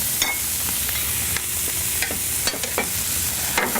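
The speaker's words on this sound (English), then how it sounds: "So over in this pan, we're going to start toasting off a Bavarian pretzel roll." Steak frying alongside a Bavarian pretzel roll toasting in a pan, a loud continuous sizzle broken by a few short scrapes and clinks.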